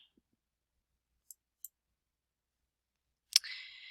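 Two faint, sharp computer mouse clicks about a third of a second apart, made while choosing a filter option in an Excel menu, then a louder click-like burst followed by a fading hiss.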